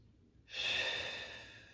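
One deep, slow breath during a yoga session, close and breathy, swelling suddenly and then fading gradually over about a second.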